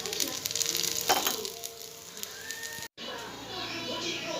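Vegetable cutlets shallow frying in oil give a steady, close sizzle and crackle that runs throughout, with a brief dropout near the end before the sizzling resumes.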